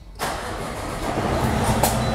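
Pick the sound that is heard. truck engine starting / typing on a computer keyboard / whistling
truck engine starting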